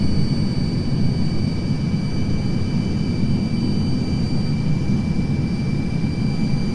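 Steady jet engine thrust from a BAC 1-11 airliner in a flight simulator, held high on approach with the landing gear down for drag; a continuous, even low roar with a faint high whine, constant throughout with no talk.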